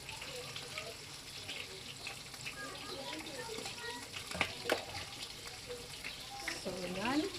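Cabbage frying in a pan gives a soft, steady sizzle under quiet talk, with a few clinks of utensils and a brief rising tone near the end.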